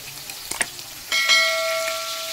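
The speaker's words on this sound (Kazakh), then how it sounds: "Мінекей, менде қалай қуырылып жатыр." Chicken cutlets frying in a pan, a couple of light taps followed by a steady bright sizzle of oil that swells and holds close and loud, with no talking.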